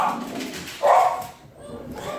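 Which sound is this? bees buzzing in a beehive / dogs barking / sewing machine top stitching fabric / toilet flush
dogs barking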